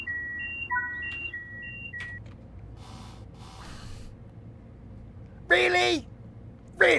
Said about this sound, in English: Of all the times for the stupid flipping alarm to go off.